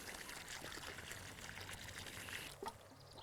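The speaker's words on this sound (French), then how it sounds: "il faut l'arroser copieusement dès maintenant" Water pouring steadily onto the soil around a newly planted bare-root pear tree, a continuous trickling stream heard close and alone.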